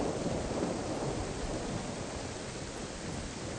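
A thunderstorm in the video game DayZ, a steady dense wash of heavy rain and low rumbling, loud and continuous with no speech.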